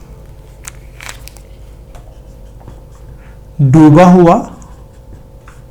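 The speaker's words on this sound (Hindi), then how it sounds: "एक शब्द यहाँ पर मैं लिखता हूं" A teacher writes a word on a classroom board, giving a few short, faint scratchy strokes near the start. Near the end the teacher speaks briefly.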